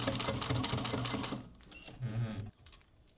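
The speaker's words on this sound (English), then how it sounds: "I'm just going to baste this on right at the seam between the front and the back panels" A Juki sewing machine basting strap connectors onto a bucket bag at the side seam between front and back panels; a fast, loud mechanical whir of stitching that slows, pauses, runs briefly again and stops.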